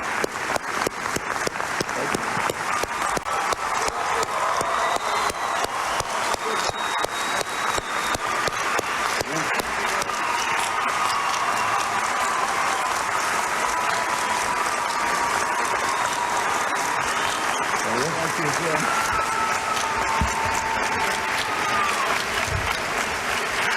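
A presidential debate hall audience welcomes George W. Bush and John Kerry with long, steady applause, dense clapping sustained throughout at an even level.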